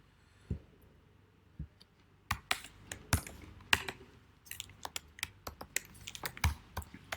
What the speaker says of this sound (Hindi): या मेरा ख्याल है हम नंबर टाइप कर देते हैं यहाँ पे